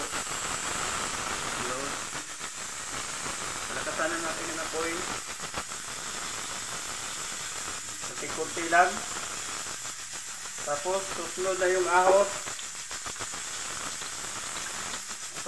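Sizzling hiss from a small amount of oil heating in a pan before garlic is added, running steadily throughout while someone talks over it.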